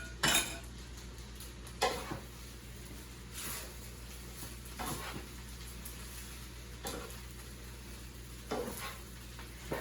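A spoon clinks and scrapes in a pot while scooping shrimp and cooking juice into a bowl, a few sharp metallic taps over a steady low background hum, close up with no talking.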